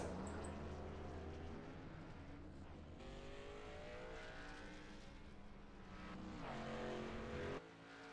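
Canadian Tire Chevy SS race car lapping Bristol at night, a steady engine drone with shifting pitch, rising and falling as it circles the track, heard from a distance without talk.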